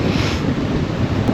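Ocean surf and strong wind buffeting the microphone, a loud, continuous broadband roar with no talk.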